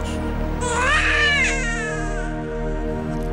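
A baby cries in a drama scene, a high wavering wail rising and falling close to the mic over a steady low hum, loud and alone with no one talking.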